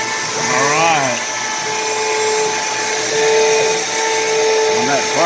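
A vacuum pump runs on a woodworking vacuum jig, a loud, steady mechanical drone with a constant whine lasting throughout, while a voice speaks briefly over it.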